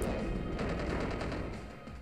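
Dark Pulse attack effect from a Pokemon video game: a dense, noisy burst of rapid crackling pulses, like a roaring barrage, loud and sustained for about two seconds before easing slightly.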